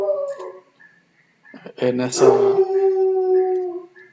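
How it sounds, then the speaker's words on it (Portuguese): A dog at home barks and howls at people out on the street, a drawn-out wailing howl with yips rising in the middle, close by and mixed with someone talking. "meu cachorro fica latindo com o povo aqui na rua"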